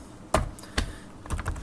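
Several distinct keystrokes on a computer keyboard as code is typed, sparse, close and fairly crisp, with short pauses between clicks.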